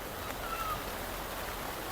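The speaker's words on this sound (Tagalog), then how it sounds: "at lalo pang lumakas ang ulan" Heavy rain pouring down in a steady, dense hiss of broadband noise that stays even throughout, with no voices over it.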